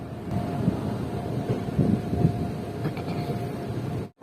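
The Padmavat Express runs after leaving Raebareli Junction, heard as a steady rolling rumble with faint rhythmic clatter and wind buffeting, ending in a sudden brief dropout.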